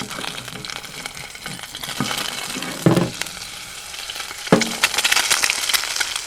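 An egg fries in a seasoned cast iron skillet, a close, crackling sizzle running throughout, broken by a few scraping knocks and metallic clinks of a utensil against the pan, with no voices.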